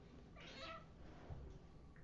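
A cat gives one faint, drawn-out meow, heard alone over a quiet, hissy room background.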